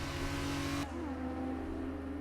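Safety car engine at Jeddah in the F1 22 racing game: a steady, close engine drone that loses its high hiss partway through, then holds a lower, even hum to the end.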